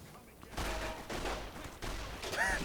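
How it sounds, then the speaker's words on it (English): Bursts of gunfire in Fallout New Vegas as a character shoots King's gang members, three or four loud broadband volleys in quick succession. "He's just fucking shooting up all the King's gang members now."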